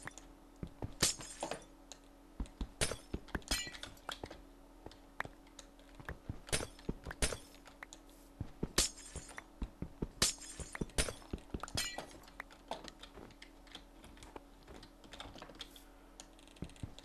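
Glass blocks shatter and clink in a Minecraft game, mixed with many sharp, rapid clicks in an irregular rhythm that goes on for the whole stretch. The sound is close and fairly quiet, with no voice.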